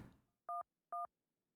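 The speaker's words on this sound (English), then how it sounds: "activate the phone, put the random phone number that you would have got from the television earlier" Two short, loud dual-tone keypad beeps from a phone being dialed in the puzzle game Agent A, evenly spaced after a brief stretch of low rustle, with no voices.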